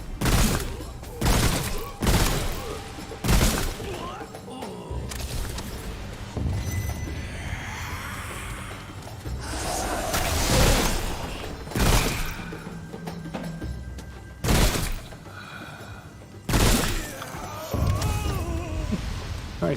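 Gunshots ring out in the Remnant: From the Ashes video game, a run of sharp, loud reports spaced irregularly among rumbling combat noise, with a voice talking faintly in the background.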